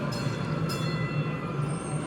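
A train pulls away from a station platform, its steady low rumble and broad rolling noise continuing evenly and fairly loud throughout, with no voices.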